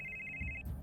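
A telephone rings in the middle of the night, a steady electronic trill that is close and fairly loud, cut off after under a second, with low rumble underneath and no talking.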